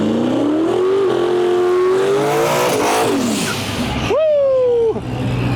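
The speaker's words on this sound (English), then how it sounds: "up next we got Lane Olenberg with the Turbo LS Ranger" A turbocharged LS-powered Ford Ranger drag races at a no prep shootout, its engine screaming loudly as the pitch climbs through several gears, then a sharp rev surges and cuts off near the end, close and dominant.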